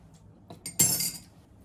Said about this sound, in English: let's give it a mix with our bar spoon, trying to pull up the sugar that might be sitting at the bottom of the glass